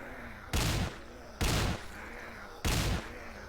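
Three loud, separate bursts of gunfire in The Wicked ring out at spaced intervals, each lasting about a third of a second, over a quiet background.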